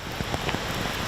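Rain falling outside schools on a wet morning, a steady broadband wash of drops hitting surfaces with soft scattered spatters, fairly faint and continuous with no voices.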